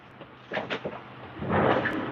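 A full drawer is pulled open with a wooden rumble in two short bursts, then a longer sliding scrape, close by and fairly loud.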